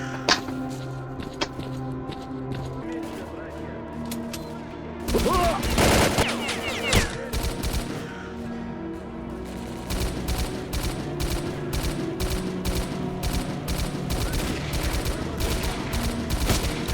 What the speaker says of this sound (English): we're taking heavy fire from an unidentified enemy